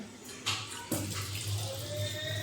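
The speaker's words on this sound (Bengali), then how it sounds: "সামান্য একটুখানি জল দিলাম, কারণ আমরা ডাল এমনিতেই পাতলা খাই" Water splashes into a pot of thin dal, with a couple of brief gushes over a steady pour and a low hum beneath, fairly close and moderately loud.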